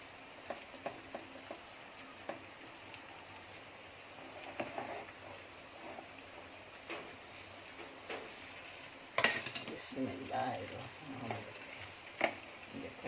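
Sweet Konkani rice ghavne being turned over in a pan, with a steady frying sizzle and scraping, clinking spatula contacts, a louder clatter of utensil on pan partway through.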